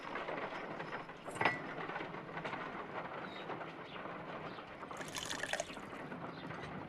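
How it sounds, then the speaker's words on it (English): Water poured into an ice knife mold in the Sherlock Holmes: Crimes and Punishments video game, a steady soft trickle and splash with a brief louder spill near the start, fairly quiet and continuous. "If I wish to shape the ice knife, then I need to pour water inside the mold."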